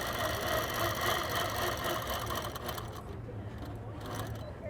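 An APQS Quilt Path computerized quilting machine stitches a wavy line, giving a steady, close mechanical whir and rapid needle chatter that carries on evenly throughout.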